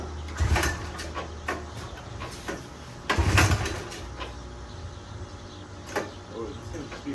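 A 1977 Honda FL250 Odyssey engine sputters to life in several rough bursts, catching and dying between them, with clattering and metallic knocks close by.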